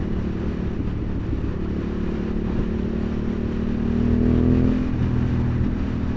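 Honda CB750 Hornet motorcycle engine while riding: a steady, loud engine drone with wind rush that rises in pitch near the end as the throttle opens, with no talk over it.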